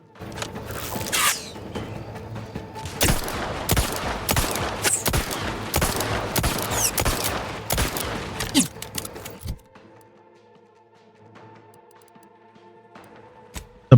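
Rapid volleys of gunfire from an explosive light revolver in The Outer Worlds 2, loud bursts packed tightly for about nine seconds, then a quiet stretch with faint clicks and one sharp final snap.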